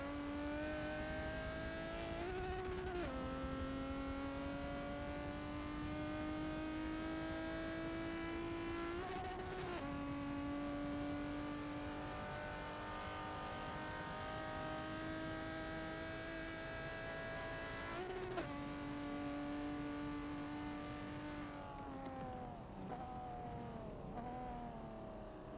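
Forza race cars circling Daytona International Speedway: a steady, loud engine whine held at high revs across the whole stretch, with brief dips as gears shift or cars pass, alone with no voices.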